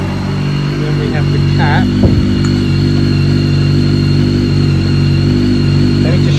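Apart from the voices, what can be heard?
BMW K1300S motorcycle engine running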